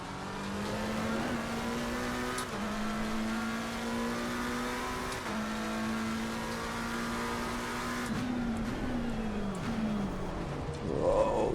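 Race car engines in Assetto Corsa Competizione at Imola, a loud steady high-revving drone rising through the gears with quick shift dips, another car's engine layered in, continuous and close without talk.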